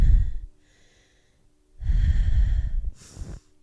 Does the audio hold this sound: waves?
no